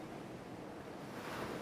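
Gentle ocean waves wash onto a quiet beach in a soft, continuous hiss of surf with a faint swell near the end, distant and calm, no voices.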